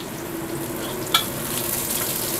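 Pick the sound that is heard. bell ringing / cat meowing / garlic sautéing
garlic sautéing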